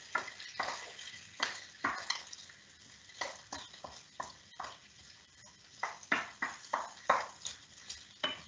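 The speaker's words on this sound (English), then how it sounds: "So bacon won't take long to cook at all" Bacon sizzling and crackling in a pan while being stirred and broken up, quiet but steady, with repeated sharp scraping and stirring bursts over a soft frying hiss.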